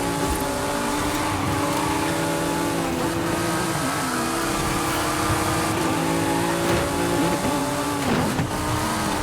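A Porsche 911 GT3 RS on a different tire compound races past AI cars in Forza Horizon 5, its engine howling loud and close with pitch swings through shifts and light tire squeal, unbroken.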